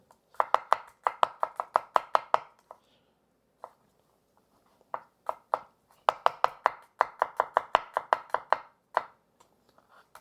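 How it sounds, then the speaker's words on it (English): Kitchen knife slicing and mincing garlic on a cutting board, quick bursts of sharp close taps in fast rhythmic runs with brief pauses between. "we're just going to go ahead and cut up the garlic and mince it"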